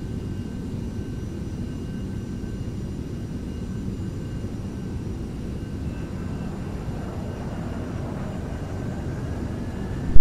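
Steady jet engine roar from a Beechcraft Premier private jet in a flight simulator game, a constant broadband drone with a faint tonal whine on top, holding at even volume for the whole stretch with no talking.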